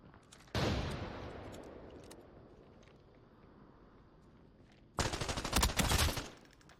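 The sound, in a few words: gunfire from scavs in a video game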